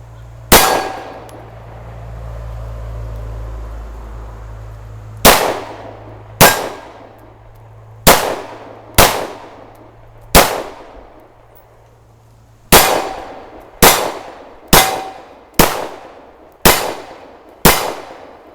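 Glock 19 Gen 4 pistol firing alternating brass-cased and aluminum-cased rounds, eleven sharp, loud reports with ringing decays, spaced about a second apart in two bursts, over a low background rumble.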